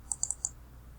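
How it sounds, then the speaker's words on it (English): A computer mouse clicks four times in quick succession on a PDF, short faint ticks close by in an otherwise quiet room. "click on the PDF from the lower left corner"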